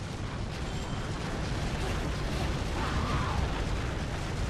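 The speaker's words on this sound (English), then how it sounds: "I am like inside the explosion basically" A huge explosion in the action game Bayonetta roars as a dense, sustained rumbling blast that fills the whole clip at steady high loudness, with no let-up and no voices.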